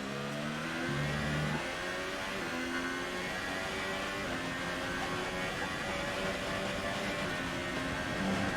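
F1 car engine in a racing video game revving hard under acceleration on an overtake through Baku, a loud sustained whine climbing through gears after a brief shift early on, steady and close with no talk.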